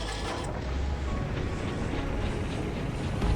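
A ship engine in the Skylanders Giants video game drones steadily, a dense broadband rumble holding at even loudness throughout with no talking.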